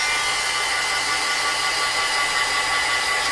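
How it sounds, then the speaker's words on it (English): A heat tool blows a steady, loud, unbroken whir while drying freshly pasted layered paper on an altered canvas, close and alone with no talk. "we're gonna quick heat dry it first"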